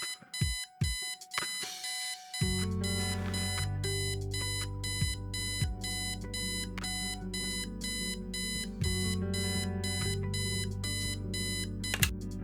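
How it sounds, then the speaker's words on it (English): Alarm clock in the video game Kathy Rain, opening with a few loud separate beeps, then a fast repeating electronic ring that continues loud and steady for about ten seconds over a backdrop of music. "I set the alarm so you won't miss the funeral"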